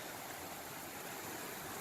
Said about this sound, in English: really cool little creek, stream, river, riparian, whatever you want to call it